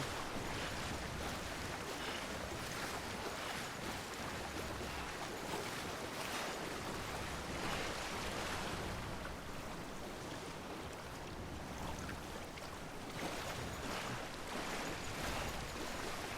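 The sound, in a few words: ocean waves while walking into water in video game Death Stranding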